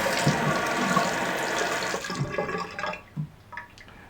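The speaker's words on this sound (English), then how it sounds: "So I'm turning on this hot water." Hot water gushes loudly from a tap in a steady, close rush, then cuts off and leaves a few trickles and drips.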